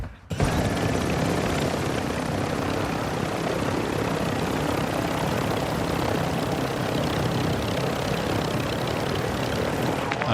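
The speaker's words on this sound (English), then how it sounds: "If I can get this chopper right and just fly away." A helicopter in the video game Call of Duty DMZ makes a loud, constant rotor and engine roar that fills the whole stretch without letup, with no talking.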